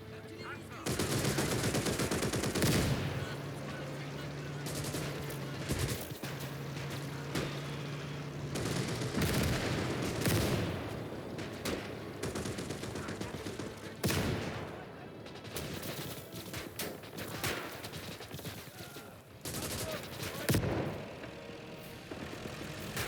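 Heavy gunfire and machine-gun bursts roar through a World War II battle in Call to Arms: Gates of Hell, dense and continuous with a steady engine-like drone early on and a voice occasionally over it.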